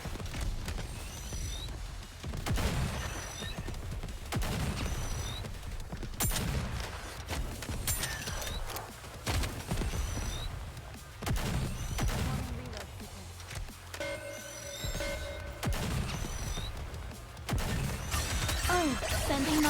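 A squad in Nikke: Goddess of Victory fires forward in repeated bursts of gunfire and crackling impacts, with shattering clatter throughout and voices talking intermittently over the shooting.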